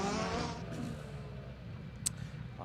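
A Ford Escort rally car on a special stage of the Harlech Stages rally, its engine a loud, steady roar close by that eases off slightly, with a brief sharp click near the end.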